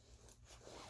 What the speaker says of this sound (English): Now you're going to zip your jacket back up